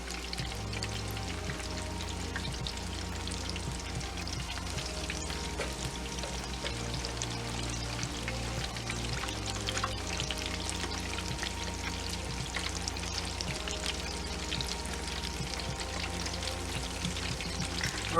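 Chicken pieces for orange chicken fry in a pan of oil, giving a dense, steady crackle and spatter with scattered pops and faint clinks throughout, fairly loud and without speech.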